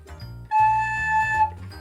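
A recorder plays a sustained A note, two holes covered on top and one on the bottom, as a steady tone held for about a second after a brief lower lead-in, with no talk over it.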